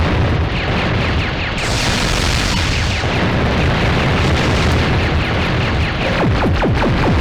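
Dense, continuous video game explosions from shooting planets in a Net Yaroze title, loud rumbling booms and bursts piling over one another for several seconds, with sharp blasts near the end.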